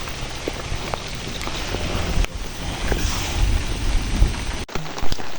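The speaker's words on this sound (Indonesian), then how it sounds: "Dan akhirnya hujan pun menghentikan langkah kita" Heavy rain falls steadily on a mountain hiking trail, giving a dense, continuous hiss with wind buffeting the microphone and a few sharper knocks and thumps near the end.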